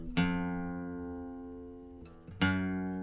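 Electric guitar sounding an F on the low E string, a single clear plucked note ringing and fading for about two seconds, then a second pluck rings out; close, solo, no talking.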